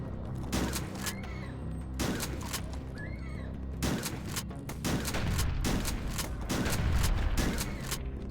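Shotgun blasts in the video game Hrot, fired at an enemy: a dense run of loud, booming shots in quick succession over roughly eight seconds, with mechanical clatter between bursts and an intensity that builds toward the end.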